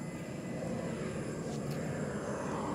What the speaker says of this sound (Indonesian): Ada pesawat itu lewat ya.